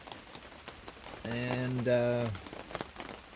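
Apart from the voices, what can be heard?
rain falling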